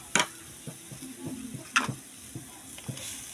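Instant noodles with vegetables cook in a pot, with faint, quiet sizzling and bubbling broken by a few sharp clinks and stirring taps.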